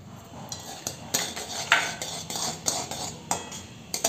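A spoon stirring and scraping a thick chikoo pickle mixture spiced with asafoetida and red chilli, giving repeated metallic clinks and scrapes against the vessel at an uneven pace, close and fairly loud.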